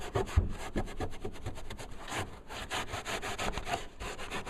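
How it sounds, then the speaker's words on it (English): A rag soaked in mineral spirits is rubbed back and forth to lift glue from a trunk bottom, a close, rapid scrubbing swish repeating steadily with no voices. "take your rag with mineral spirits. And you just kind of, gently rub it."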